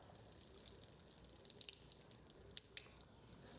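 The last water trickling from a house tap pipe during a water shortage, faint dripping and splashing in a sink with irregular small drops over a soft hiss.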